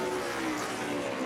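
NASCAR race cars roar past on the track at Nashville in a dense, continuous high-pitched engine whine, loud and sustained for just over a second, alone with no talk.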